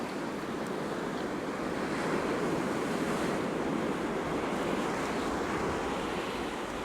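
Ocean surf breaking on a fishing beach, a steady broadband wash of waves rolling in continuously with some wind noise over the microphone, no voices.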